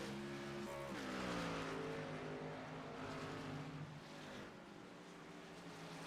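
A racing truck pulling away from a pit stop after fuel only at an Arizona race, its engine note rising loud and close in a steady revving drone, with tire noise and other engines running under it.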